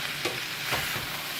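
Black pepper chicken with celery and zucchini being stir-fried and tossed in a pan, a steady sizzle with a couple of soft scraping flips.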